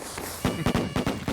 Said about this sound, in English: Firecrackers coming in, but not really any value coming through.